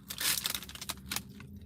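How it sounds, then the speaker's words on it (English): A few crisp crunches as teeth bite into a crunchy taquito, close to the mic and fairly quiet, with crackling bursts spread across a second and a half. "Let me take a bite of my taquito because I'm very, very hungry."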